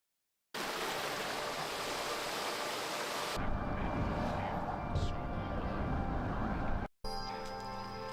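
A rushing waterfall in the video game West of Dead, a steady broadband roar that runs on continuously, shifts in tone midway, and cuts off briefly before resuming.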